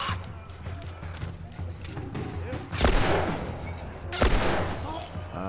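Gunfire in The Last of Us, two loud broadband blasts standing out over a steady low game hum, with smaller shots and clatter scattered around them.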